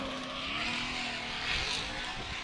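V8-powered Nissan 350Z drift car on Yokohama tires during Formula D practice in Texas, a loud, close engine note holding high revs with a rough, raspy edge over a couple of seconds, no talking.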